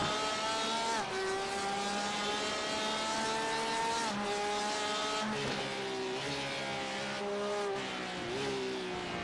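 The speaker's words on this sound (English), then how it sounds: "GTE Porsche howling away" A GTE Porsche race car, likely flat-six powered, howls through a series of corners, its loud engine note rising and dropping with repeated gear changes and sustained high-revving passages.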